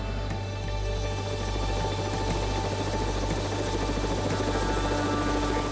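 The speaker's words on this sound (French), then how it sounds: "faire décoller son hélicoptère pour les secourir" A rescue helicopter lifts off in mountain terrain, its steady rotor thump and turbine whine running continuously and loud, with a regular low beating pulse throughout and no voices.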